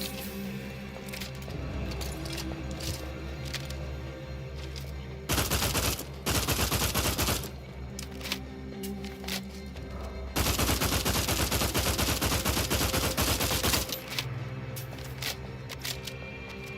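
Rifle fire from The Outer Worlds 2 comes in two dense bursts of rapid shots. Isolated sharp cracks come before and between the bursts.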